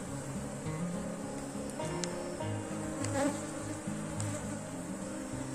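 Honey bees buzz thickly and continuously on a brood frame lifted from a hive, a close, dense drone of many wings with individual bees passing near.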